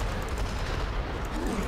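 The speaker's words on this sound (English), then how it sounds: "Belial puts his arms in the ground and starts summoning explosions all over the place" Belial summoning explosions across the ground in a Diablo III boss fight, a dense, continuous rumble of overlapping blasts and crackling bursts, loud and sustained with no clear gaps, and no talk.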